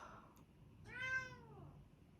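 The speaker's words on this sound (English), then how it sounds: "my cat meowed." A pet cat gives a single drawn-out meow, rising then falling, heard fairly close and clear over a quiet indoor room with faint background hiss.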